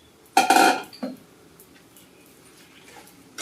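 Fried vegetable manchurian balls tumble into a pan with a loud clatter of metal and cookware, followed by a second smaller knock, then quiet kitchen background with faint rustles.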